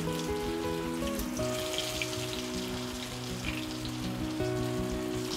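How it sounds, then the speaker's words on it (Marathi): Steady, dense sizzling of cauliflower frying in hot oil in a small wok, continuous and close, with a low electrical hum running underneath. "तर आता आपण फ्राय करून घेऊया"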